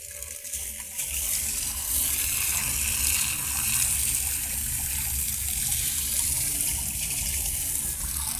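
A horizontal jet of water in a physics demonstration makes a steady, hissing gush. It swells after the first second and holds loud and constant, with no talking.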